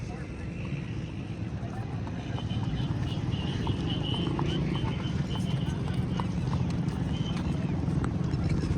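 A horse walks in a park in the village of Taunsa Sharif, its hooves clip-clopping steadily and continuously over loud rumbling outdoor background noise, with voices talking nearby.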